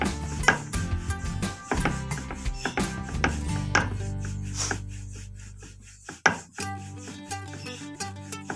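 Wooden rolling pin rubbing and rolling over roti dough on a board, a steady series of rhythmic strokes with occasional sharper knocks, close and clear, no voices.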